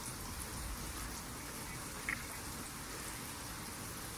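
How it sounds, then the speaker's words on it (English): Light rain falls steadily outdoors as a constant, even hiss with no distinct drops standing out and no voices. "It is lightly raining"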